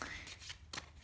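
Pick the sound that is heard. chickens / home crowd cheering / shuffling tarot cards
shuffling tarot cards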